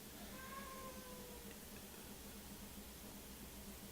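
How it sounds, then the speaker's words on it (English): Faint, distant cat meowing, a couple of short thin cries early on over a steady background hiss, with no talk. "the cat's meowing"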